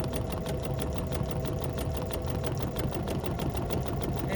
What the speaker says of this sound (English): It's like the machine is stitching sideways, but I'm going sideways, just like that.